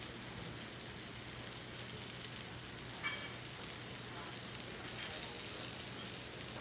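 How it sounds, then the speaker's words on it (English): Curry pork burgers sizzling on a smoking hot cast iron pan, a soft steady hiss with faint crackles and one brief sharper pop partway through. "so I'm gonna put some burgers down for that"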